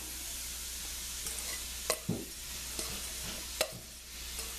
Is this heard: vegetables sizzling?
yes